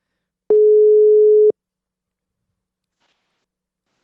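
A phone call ringback tone sounds as someone is dialed: a single steady one-second electronic beep, clean and loud, followed by silence.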